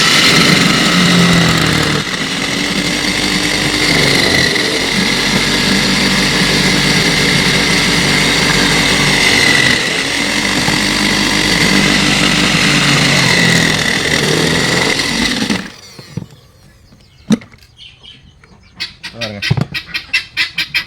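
A vegetable slicing machine runs loudly while slicing bitter gourd, a steady motor whine with rhythmic cutting chops for about fifteen seconds, then stops, leaving scattered clicks and handling noises.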